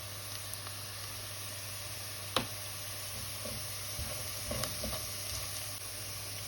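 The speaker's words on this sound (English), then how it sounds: "time to just go in with all the spices" Carrots frying in a pot with dry spices just added give a steady, even sizzle throughout, with a few sharp clicks and light scraping stirs breaking through the constant hiss.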